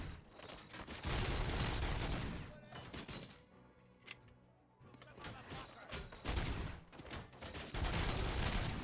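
Rapid gunfire from the RoboCop video game, loud bursts of game shots packed densely at the start and again near the end, with a quieter gap in the middle.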